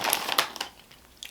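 Andy Capps onion rings crunched up close, a quick cluster of sharp crisp bites and crackles that fade out, then one last crunch at the end, with no voices.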